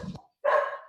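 A dog barks in a short, loud burst after a brief muffled sound, with a moment of silence between them.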